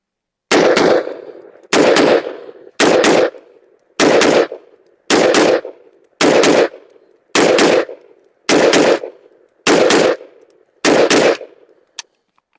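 A handgun fitted with a Monstrum Ghost red dot and 3X magnifier fires outdoors at targets, ten loud sharp shots in an even, steady rhythm about a second apart, each with a brief ringing tail.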